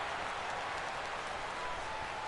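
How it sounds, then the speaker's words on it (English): Steady crowd cheering and applause from a stadium in the MLB 16 baseball video game, a dense, even roar of noise held throughout without letting up. "I don't know why the crowd cheers every time"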